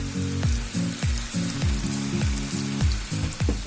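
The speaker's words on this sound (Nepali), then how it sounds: "टक्क तेलमा हाल्ने त्यसपछि तेलमा यसरी हाल्ने" Spoonfuls of pakora batter drop into hot cooking oil, each landing with a soft plop before a loud, continuous sizzle and crackle that keeps renewing in a steady rhythm.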